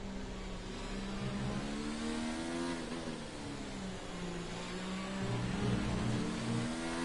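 Mercedes race car in a racing video game at the Austrian GP, a continuous loud engine whine with harmonics bending as it accelerates and shifts, no voices.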